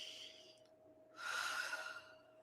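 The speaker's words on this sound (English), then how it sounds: "Take a breath with me" A single deep inhalation during guided meditation, a soft breathy rush rising after a quiet pause and lasting about a second, close and alone against a faint steady hum.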